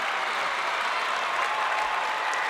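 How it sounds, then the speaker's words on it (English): Basketball crowd giving a standing ovation, steady dense clapping and cheering that holds at an even level throughout, fairly loud and filling the space. "the Watertown crowd actually showing some class, giving their team a standing ovation"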